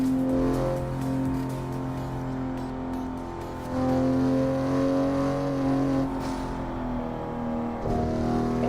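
A car engine driving in Assetto Corsa, a steady droning hum with strong tonal harmonics that swells and eases as the throttle changes, close and continuous throughout.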